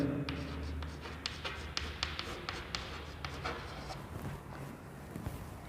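Pen scratching by hand on paper as the word furniture is written into a company final-accounts sheet, a close, quiet run of short strokes and taps over a faint room hum.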